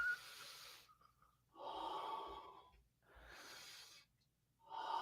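Heavy, effortful breathing during a physical fitness exercise, several long loud exhales and gasps in a steady rhythm with short pauses between them, close to the listener with no talking.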